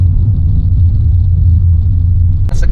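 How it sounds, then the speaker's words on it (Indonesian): Low road rumble and tire roar inside a Toyota Yaris cabin fitted with butyl rubber sound deadening, heard as a steady muffled drone with a short higher rustle near the end. "Sekarang suara gemuruh di kabin itu jauh lebih berkurang"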